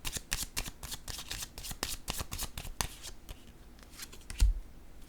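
Tarot cards are shuffled and laid down one after another, crisp riffling flicks and soft slaps close by in a quiet room, ending with a heavier tap as a card lands.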